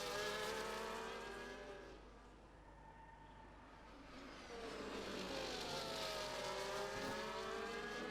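Race cars lap the Azerbaijan circuit in a racing video game, with engines whining as they pass close by, fading in the middle, then rising again with several overlapping revving cars.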